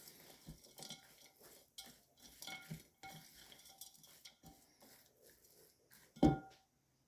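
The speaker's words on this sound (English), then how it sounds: "And I'm just going to combine all of that together." Egg, Worcestershire sauce, sage and seasonings are stirred together in a bowl for red lentil nut burgers, with soft irregular scraping and tapping from a utensil, ending in one louder clink.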